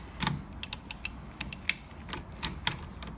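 A ratchet wrench tightens the nut holding the steering wheel on a 1987 Jeep Wrangler, sharp metallic clicks in quick bursts of two and three, close and clear with short pauses between strokes.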